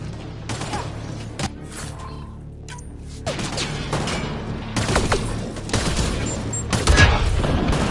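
Enemy gunfire in Mass Effect Andromeda comes as loud bursts of shots and booms with mechanical clatter, close and repeated. It builds in intensity toward the end.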